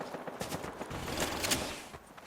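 Gunfire in Fortnite, a rapid burst of game shots crackling in quick clusters over about two seconds, moderately loud with no talk.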